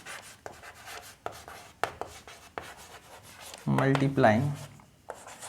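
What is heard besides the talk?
writing on a board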